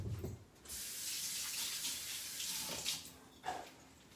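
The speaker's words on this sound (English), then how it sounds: "Wash my hands off so I can show you guys this." Tap water runs steadily into a sink as hands are washed after making shrimp tacos, a continuous close splashing hiss that shifts briefly as the hands move under the stream.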